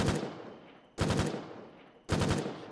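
Three loud, close bursts of automatic gunfire from a gun in the war video game Foxhole, each sharp volley rattling and then trailing off, evenly spaced about a second apart with no talking.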